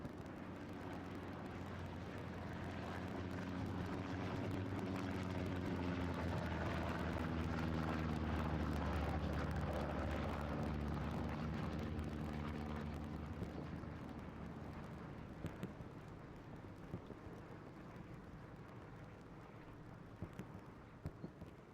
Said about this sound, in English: Just had a recon plane come over